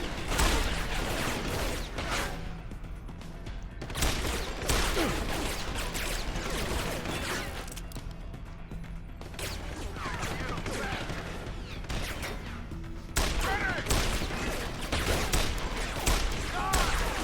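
Sustained game gunfire in Deus Ex: Human Revolution, dense bursts of shots and mechanical clatter running through the whole stretch, with a brief lull in the middle before the firing swells again; a voice is mixed in among the shots.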